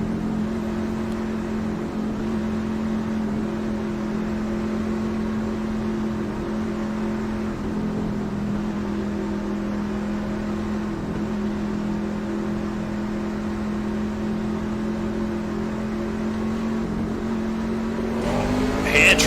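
Race truck engines in iRacing's ANZCAR Truck Series at Atlanta, a steady, close droning roar that holds for a long stretch and rises sharply at the very end as they pull away.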